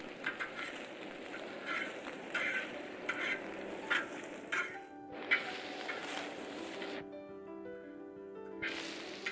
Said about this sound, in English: let's add that broccoli in with the beef